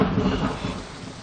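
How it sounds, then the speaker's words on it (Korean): Heavy rain pours steadily while a deep roll of thunder rumbles underneath, dense and enveloping, fading slightly toward the end with no voices. "비가 오고 있습니다"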